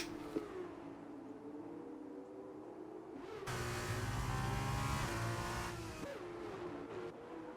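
F2 race cars circling the Austria track in a racing game, a steady engine whine swelling louder midway as a car draws near, then easing off again, with no voices.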